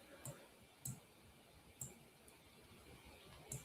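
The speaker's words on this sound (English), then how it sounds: "Click our Monte Carlo box" Sharp computer mouse clicks toggle a software checkbox: four or five separate, close, crisp taps spaced unevenly over a quiet room.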